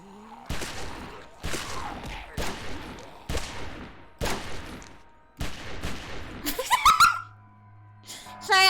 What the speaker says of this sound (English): I had to shoot the wall a little bit.